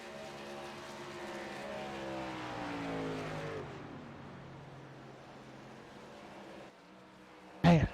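Racing trucks roaring around a track during a race, a loud engine sweep rising and then dropping away as they pass, followed by a lower rumble and a sudden sharp burst near the end.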